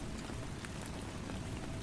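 Steady rain falls in an even, continuous patter of drops on surfaces, a soft constant wash with no breaks or voices, close and moderately quiet.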